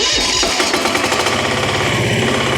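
A Firman FDW300C welding generator engine cranks with a rough rattling burst, then catches and settles into a loud, steady, fast chugging idle.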